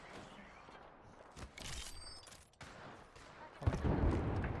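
Rapid bursts of gunfire in Apex Legends, sharp volleys clustered at intervals with a louder sustained stretch near the end, over background game ambience.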